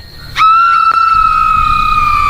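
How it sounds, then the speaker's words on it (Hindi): A woman screams loudly in a horror story, one sustained, piercing high-pitched cry that holds steady for about two seconds over a low background rumble. "उसे देखकर शीनम जोर से चिल्लाती है"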